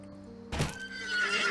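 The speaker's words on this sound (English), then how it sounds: "I just attacked my horse and got back on it" A horse neighs in the video game Legends of Aria: a sudden burst followed by a shrill, wavering whinny that grows louder over a low background hum, with no talk.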